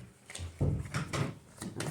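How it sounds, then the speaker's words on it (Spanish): A door pulled shut indoors, a wooden thud with a short rattle and a second knock after it, close and fairly quiet, with no talk over it. "¿me cerrás la puerta, por favor?"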